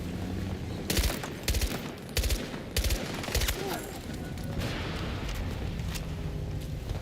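Short bursts of gunfire from a rifle set to burst fire in the Battlefield video game, several sharp clusters in the first half, then a steady din of distant battlefield noise.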